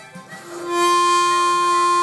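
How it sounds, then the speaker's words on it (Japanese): A single sustained F note from hole 3 blow of a ten-hole harmonica's B-flat reed plate, clear and steady, swelling in after a brief breathy start and holding to the end. "F が鳴ってます。B フラットのリードプレートの3番吹き音ですね。"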